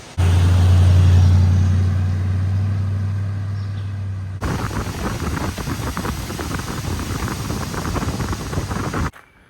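A Scout truck drives a small mountain road in rainy West Virginia: a steady engine drone gives way to louder, rougher tire and road rumble with wind buffeting, then the sound drops away abruptly.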